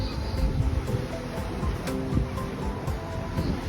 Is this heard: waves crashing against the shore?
yes